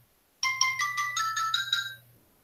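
Phone ringtone from an incoming call, a bright rising electronic melody of quick repeated notes over a low buzz, close and clear, lasting under two seconds before stopping.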